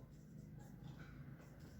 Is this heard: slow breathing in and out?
no